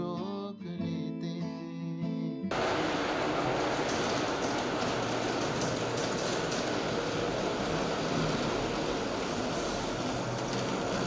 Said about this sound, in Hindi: ये लो ट्रेन आ गई।